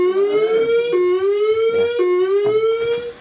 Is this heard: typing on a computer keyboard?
no